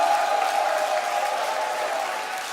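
A large crowd at a StarCraft 2 tournament quarterfinal applauds and cheers steadily for a player, a dense, continuous roar of clapping and voices that holds at a loud level throughout.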